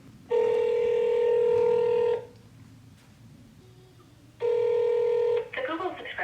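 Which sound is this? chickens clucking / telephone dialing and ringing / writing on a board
telephone dialing and ringing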